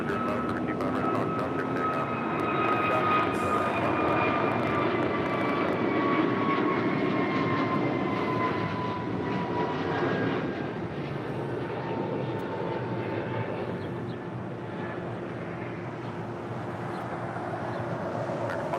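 An airliner taxiing toward the Tom Bradley terminal at LAX after landing on runway 24 right, a loud continuous jet engine whine with slowly falling tones, steady and fairly near.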